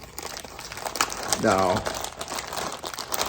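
Plastic packaging of aftermarket TZ label tape crinkling and rustling as it is handled and opened, close and fairly quiet, with someone speaking briefly over it.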